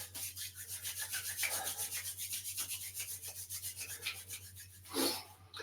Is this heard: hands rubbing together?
yes